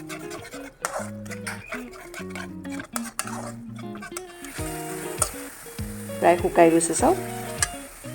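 Spiced masala with tomato sizzles in a pan for a chital fish curry, with soft frying hiss and occasional stirring clinks while someone talks over it, the sizzle swelling louder toward the end.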